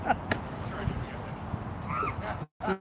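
Crows calling outdoors at a street protest gathering, a few caws fairly distant and soft over steady crowd noise and a voice talking nearby.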